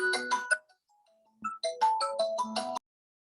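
A mobile phone rings with a bright melodic ringtone, two bursts of chiming notes separated by a short pause, clear and close, then cut off abruptly.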